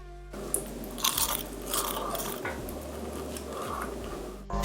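Crunchy fried cheese sticks with melted stretchy cheese inside, dusted with popcorn seasoning, being bitten and chewed up close in a run of crisp crunches over a low steady hum.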